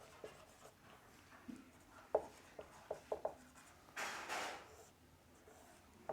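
Marker or chalk writing on a board during a physics lecture on black body radiation, with a run of short, quiet scratchy strokes in small bursts and a longer rubbing sweep, close and alone with no talk.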